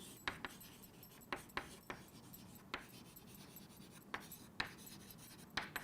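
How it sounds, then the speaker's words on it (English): Marker or chalk strokes on a board, a series of short sharp taps and scratches at irregular intervals, close and fairly faint, without speech. "let me just write over here"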